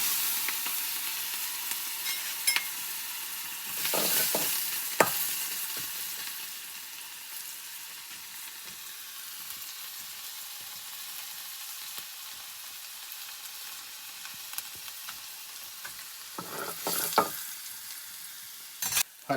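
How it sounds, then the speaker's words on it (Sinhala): Mustard seeds, dried chilies and red onions fry in hot oil with a steady, close sizzle, broken by a few louder bursts of crackling and stirring. "රත් වෙච්ච තෙල් වලට මේ වගේ අබ දා ගන්නවා. අබ ටික හොඳට පිරුණාට පස්සේ වෙලිච්ච මිරිස් දා ගන්නවා."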